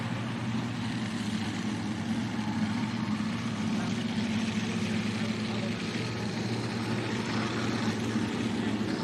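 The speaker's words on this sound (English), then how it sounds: "backing up to the sled right now is Mark Giroux with a Wild Times tractor" A Wild Times pulling tractor backs up to the sled at a tractor pull in Wauseon, Ohio, its engine a steady, loud, rumbling idle that holds evenly throughout without a break.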